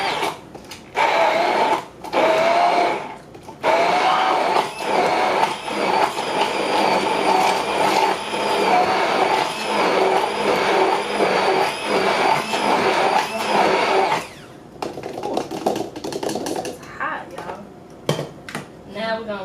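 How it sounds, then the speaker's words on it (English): A blender whirring through boiled vegetables for vegan cheese sauce, a loud, steady motor roar that runs for about fourteen seconds and then stops, followed by quieter handling sounds. "so I'm just blending it up"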